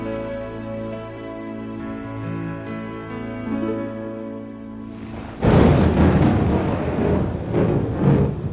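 A sudden loud thunderclap crashes in after several seconds of music, then rumbles on at full loudness to the end.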